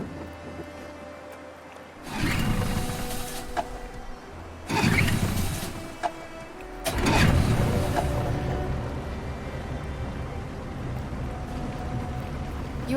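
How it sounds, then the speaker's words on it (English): A boat engine starting out on the water in the game Detroit: Become Human: a few short rumbling bursts as it catches, then a steady, loud running drone over a quieter wash of water. "We're far enough out. We can use the engine."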